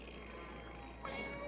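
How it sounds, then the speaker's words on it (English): A cat meows in a 1987 animated Phantom of the Opera film, a soft, drawn-out cry rising near the end over a steady background hum. "Look at this sweet little cat."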